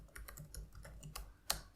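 Rapid typing on a computer keyboard, a string of light, irregular key clicks ending in one sharper keystroke, close and on its own with no talking.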